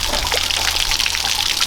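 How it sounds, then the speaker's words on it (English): Spring water pours out steadily at the Abbey of Mount St Bernard near Tynt Meadow, a close, continuous rushing splash with no voices. "there's the spring water pouring out"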